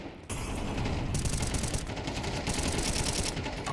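Rapid Counter-Strike gunshots in a pro esports match on the map Ancient, fast repeated bursts of automatic fire following a short quiet start, loud and close with no talking.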